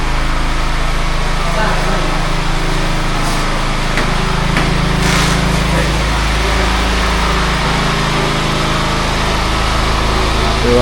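A small engine vehicle driving up, its steady light motor droning loudly and close throughout, with voices talking over it.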